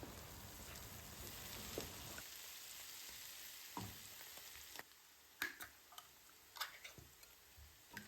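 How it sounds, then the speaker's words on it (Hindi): Onions with garlic-ginger paste fry in a little oil with a faint, continuous hiss. Occasional sharp clicks from stirring rise above the sizzle, heard alone at low volume. "सबसे पहले हमने उस थोड़े से ऑयल में प्याज को फ्राई कर लेना है"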